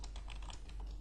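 Computer keyboard typing, a quick run of light, close clicking keystrokes at a steady pace over a low background hum, with no talking.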